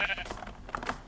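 A Minecraft sheep gives a couple of short, nasal blocky-game bleats among soft keyboard clicks and faint background noise, fairly quiet and close.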